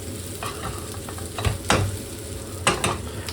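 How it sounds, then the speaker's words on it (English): Chilies are stirred and sizzle in a pan while prawn biryani is made, a close frying hiss broken by a few sharp scraping strokes of a utensil. No one talks. "Gonna add my chilies. Give it a quick mix."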